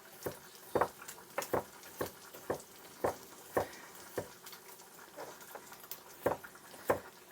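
Swedish meatballs frying in a copper non-stick pan: a soft sizzle beneath repeated sharp crackles and pops, spaced irregularly and close by, with no talking.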